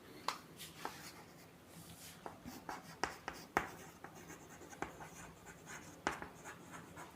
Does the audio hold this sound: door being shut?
no